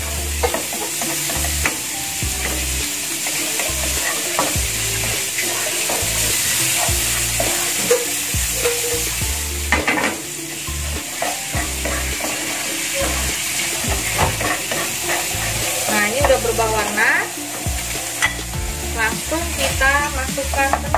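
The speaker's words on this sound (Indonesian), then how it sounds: "kita aduk-aduk sampai udangnya berubah warna ya." Shrimp frying and being stirred in a pan for a chive and shrimp omelette, loud continuous sizzle with clattering utensil scrapes and stirs throughout, close up without talk.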